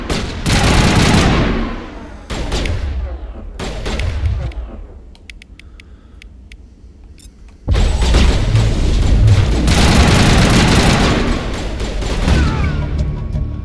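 Heavy gunfire erupts in a Mass Effect firefight, with dense bursts of automatic fire and booming shots filling the first few seconds. A brief quieter lull with a few sharp pops follows, then a sustained loud barrage resumes to the end.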